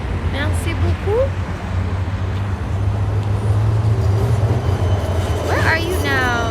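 Riding a long tram across the Buda side of Budapest: a constant low rumble of wheels and traffic fills the background, with brief squeals and faint voices now and then over it.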